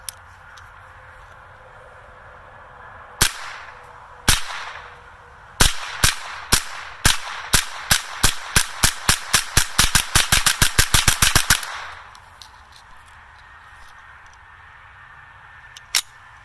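Gunfire from oddball calibers such as .22 LR into a pile of drywall: a few spaced shots, then a rapid run of about twenty sharp cracks in quick succession, then one last shot after a pause, loud and close.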